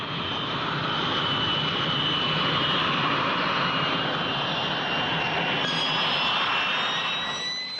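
An airplane engine roars steadily and loudly as it accelerates, a continuous close drone with a rising whine toward the end, no talk.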